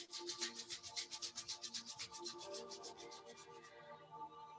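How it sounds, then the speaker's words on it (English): Palms rubbing briskly together in a quiet yoga session, a rapid run of close, dry swishing strokes that fade toward the end as a soft tone lingers underneath. "Now put your hands together to rub."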